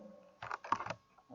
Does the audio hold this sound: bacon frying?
no